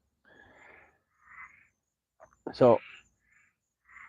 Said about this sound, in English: That frog has something to say.